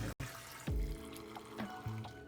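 Water is poured for matcha, only a little of it hot, in two or three brief splashing pours with quiet gaps between them, close by, with no talking.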